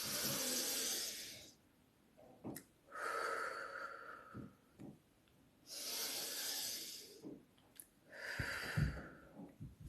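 Slow breathing exercise, air drawn in through the nose and let out through the mouth, heard as alternating breathy bursts of about two seconds each, close and quiet, with no talking.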